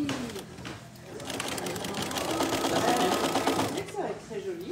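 A sewing machine stitches a tote bag in a steady, continuous mechanical whir that swells slightly mid-clip, with a voice talking over it.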